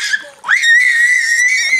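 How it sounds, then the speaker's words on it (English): A child shrieks in a long, sustained high-pitched scream while playing in a pool with friends, a short squeal rising into a steady piercing cry that holds loud and close for over a second. "Screaming high pitch"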